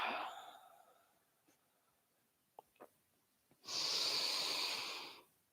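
A yoga student breathes steadily through a class, a soft breath fading early on, then a long, strong exhale of about a second and a half, close and clear in a quiet room.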